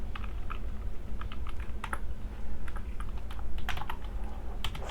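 Quick, uneven clicking of a computer keyboard as code is typed for a smart contract, close and steady for several seconds with no voices.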